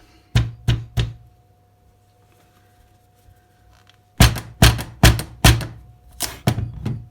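Sharp wooden knocks as a knife is tapped into a tough pumpkin skin, three close knocks, a pause, then a faster run of about six more, loud and near with a faint steady hum behind.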